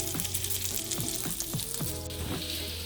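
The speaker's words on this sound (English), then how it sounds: "I'm gonna cook them for about 10 minutes, turning occasionally to sear them on all sides" Meatballs sear in a hot pan, a continuous bright sizzle and crackle with periodic scraping pops as they are turned and stirred.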